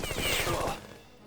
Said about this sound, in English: rocket rifle hits someone.